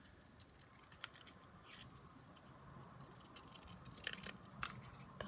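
Scissors snip through card while a Christmas card is being made, a series of quiet, irregular crisp cuts up close with faint rustling between them and no talking.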